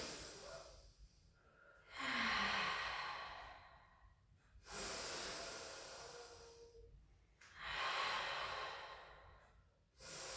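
Slow, deliberate breaths during a pilates stretch, with three long airy exhales rising and fading at a calm, even pace, close and quiet, no speech.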